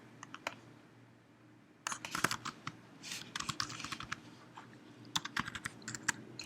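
Computer keyboard typing, sparse taps at first and then a quick run of closely spaced key clicks, near and soft over a faint steady hum, no speech.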